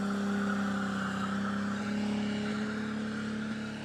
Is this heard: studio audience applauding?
no